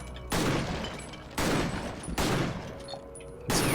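Heavy shotgun blasts in the Victor Vran action game, four loud booming shots spaced about a second apart, each with a long crackling tail and debris noise.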